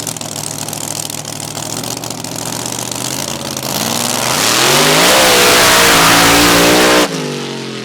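A hot rod mud drag racer's engine at a Valemount mud drags event idles roughly, then revs hard and rises in pitch to a loud sustained scream before cutting off sharply, close and dominant with no speech.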